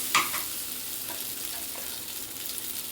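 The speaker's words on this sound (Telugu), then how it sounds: "ఊరికే కలిపేయడమే." Boiled pasta is stirred in a pan with dried red chillies and asafoetida, a soft steady sizzle with a few scraping strokes of the spoon, close and low.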